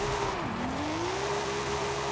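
A car drifting in Forza Horizon, a steady engine drone that holds a sustained tone, dips briefly, then climbs again as the car slides through a turn, continuous and fairly loud with no voices over it.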